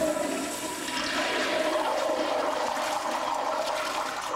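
A toilet flushes with a loud, steady rush of swirling water that keeps going for several seconds, heard up close and alone.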